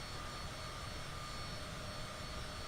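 Cessna Citation CJ4 business jet cruising in Microsoft Flight Simulator 2020, a steady broadband engine roar with a faint whine, even and unbroken throughout with no talking.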